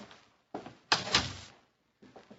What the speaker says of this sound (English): Close the door, please.